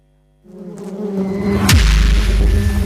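An electronic honey bee buzz opens a radio stinger, climbing in pitch as it gets louder and closer. A sharp hit lands near the middle, then a heavy low drone holds to the end, with no voices.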